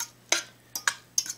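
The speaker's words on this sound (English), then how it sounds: "you just want to fluff this with a fork" A fork fluffs cooked rice mixed with butter in a pot, giving a few soft, close scraping ticks in quick irregular strokes.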